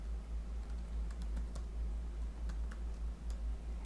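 Fingers tap at a computer keyboard in irregular bursts of small clicks, close and fairly quiet over a steady low hum.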